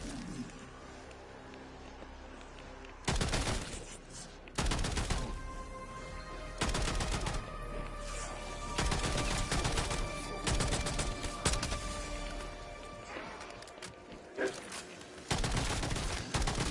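Bursts of gunfire from a gun in a zombies video game, the ray gun Mark II being sought, fired in several separate volleys of a second or so each over a steady low game background, with no talk.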